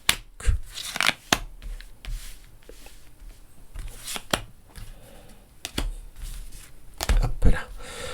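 A deck of tarot cards is cut and handled, giving sharp close slaps and flicks at irregular intervals, a cluster of brisk riffling near the end, and quiet rustling in between.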